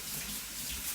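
Tap water runs steadily over basmati rice being rinsed in a kitchen, a loud continuous splashing gush with no talk.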